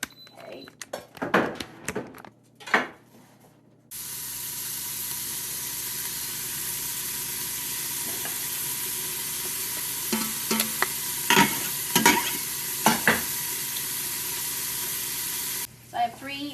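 Diced onion hitting hot olive oil in an Instant Pot, a sudden loud steady sizzle that holds for about twelve seconds, with stirring clatter and a few kitchen knocks around it.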